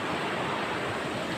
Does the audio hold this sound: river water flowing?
yes